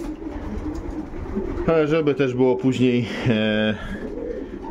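Domestic pigeons in a loft coo in repeated bursts, several layered coos close by, while someone talks in Polish over and between them.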